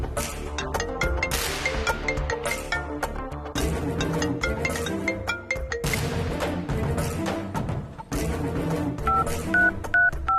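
A telephone is dialed to call someone, its short keypad beeps sounding near the end over loud, continuous dramatic background music.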